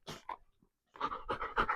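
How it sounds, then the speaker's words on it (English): A dog named Legend pants in quick, breathy bursts close by, a short pause breaking the rhythm before the panting resumes. "He's my buddy Murph's dog."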